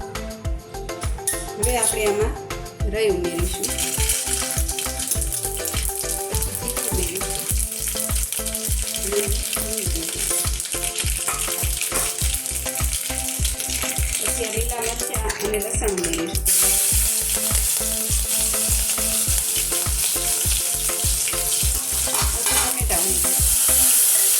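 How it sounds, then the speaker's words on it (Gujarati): Steady crackling sizzle of spices and garlic tempering in hot oil, continuous and close, with a regular thumping musical beat running underneath throughout. "હવે આપણે તવલામાં તેલ મૂક્યું છે હવે આપણે એનો વઘાર કરીશું"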